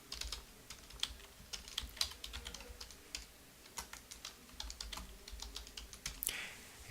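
Notes being typed on a computer keyboard, with steady, fairly rapid key clicks and a few heavier strokes. The typing is close but quiet, and no one speaks.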